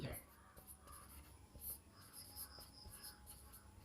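A pen scratching on paper in quick, faint strokes, with a steady high insect-like hiss in the background and soft bursts of scribbling throughout.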